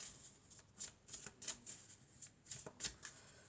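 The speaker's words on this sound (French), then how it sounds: "on va prendre une carte de l'oracle des elfes" Elf oracle cards being shuffled by hand, a rapid series of soft riffling flicks in a steady rhythm, close and quiet, no talking.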